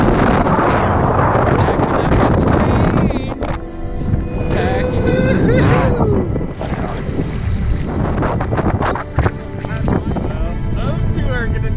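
Strong Arctic north wind buffeting the microphone on an open-water fly fishing trip, a loud, gusting roar that surges and dips, with bursts of rattling and brief voices in between.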